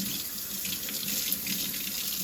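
A kitchen tap runs steadily while a blue crab is cleaned beneath it, a continuous close splashing rush of water with small fluctuations as hands move through the stream.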